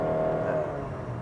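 A 2016 Honda HR-V with a 1.5 litre engine and CVT gearbox accelerating hard, giving a steady droning engine hum that holds one pitch and fades slightly at the end.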